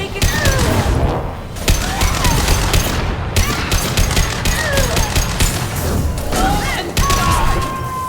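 Dense gunfire from Mass Effect 2 Legendary Edition: loud, rapid bursts of shots and impacts crowd together almost without pause, close and intense, with occasional whizzing and crashing effects layered in.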